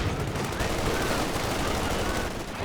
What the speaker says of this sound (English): MG shooting at this squad over here.